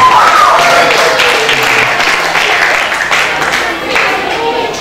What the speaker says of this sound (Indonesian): Kita beri aplaus untuk seluruh peserta dari 4 sekolah.